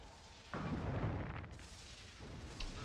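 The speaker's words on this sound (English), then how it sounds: "You will not survive the constant barrage of cantrips." A barrage of magic missiles and cantrips from mages in Sword Coast Legends, a sudden rumbling burst of booming impacts that swells and then tapers into a lingering roar, loud and continuous without talk.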